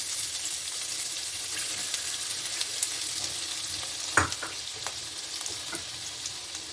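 Two medium finely chopped onions fry in a pan for a fish and coconut milk gravy, making a loud, dense, continuous sizzle heard up close. A few sharp clinks of a spoon or spatula against the pan cut through near the middle.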